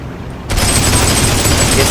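Heavy gunfire from a Pz I tank crew in Heroes & Generals, a sudden loud burst of rounds slamming into an enemy tank turret, sustained as a dense, roaring barrage.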